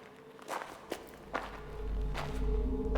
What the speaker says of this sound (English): They hear footsteps.